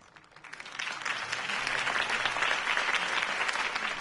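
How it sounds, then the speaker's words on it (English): Crowd applause after a campaign speech in a video game swells from a few claps into steady, dense clapping that holds for several seconds, moderately quiet. "If only Mr. Wayne, my campaign's largest backer, could have heard that applause"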